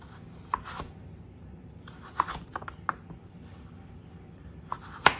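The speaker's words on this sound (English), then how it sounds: "Now, for the matchsticks, I'm going to thinly slice." Knife thinly slicing carrots into matchsticks on a cutting board: sharp, crisp chops at irregular intervals, some in quick pairs, close and fairly quiet, with no talking.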